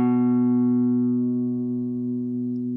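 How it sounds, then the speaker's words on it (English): One guitar note sounds on the fifth string at the second fret, a low steady tone ringing throughout and gently fading, alone in quiet surroundings. "place it on the 2nd fret of the 5th string, A. It should sound like this"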